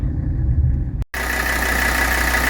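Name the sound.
1982 Mercedes 300D diesel engine idling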